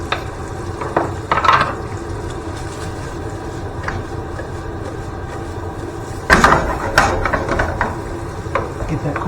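Roughly chopped garlic, about three cloves' worth, cooks in a pan for a Bolognese-carbonara sauce, giving a steady close sizzle with louder bursts of stirring and clatter near the start and again toward the end.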